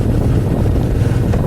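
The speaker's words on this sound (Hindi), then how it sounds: "हवा चल रही है बहुत ज़्यादा तेज़" Strong gusting wind buffeting the microphone on a motorbike ride near Tso Moriri lake in Ladakh, a loud steady low rumble with no speech.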